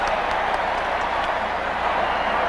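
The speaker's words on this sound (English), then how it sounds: "Crowd reacts as if it'll be against Dallas, and the crowd reacts correctly." A packed stadium crowd at a 1979 Dallas Cowboys vs Washington Redskins NFL football game roars in a steady, distant wash of noise with no distinct breaks, heard through an old television broadcast.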